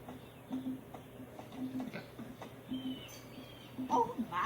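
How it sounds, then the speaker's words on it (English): A sick little bird in the Jak & Daxter game, chirping in short weak repeated peeps spaced across a quiet background, with a brighter cluster of calls near the end. "Oh my, what a horribly sick little bird."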